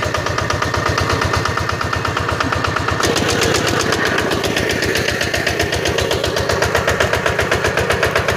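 A small engine, likely a farm tiller or similar machine used by H'mông farmers in northwest Vietnam's field season, catches and runs steadily after being pulled to start, with a loud, close, rapid throbbing rhythm that holds throughout.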